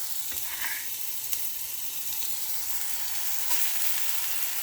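Chopped onions sizzle steadily in a hot pot, a continuous hiss of frying with a couple of faint clinks and stirring scrapes, no voices over it.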